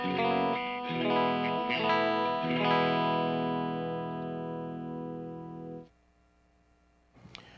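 Distorted electric guitar played through a Peavey 6505II amp with the bright switch on, a few strummed chords then a long sustained ring that cuts off near the end, followed by a brief faint noise.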